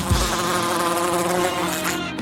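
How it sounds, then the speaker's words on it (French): A bee buzzes loudly close by, a continuous droning hum that wavers slightly in pitch as it moves around, no voices. "Il y a une abeille?"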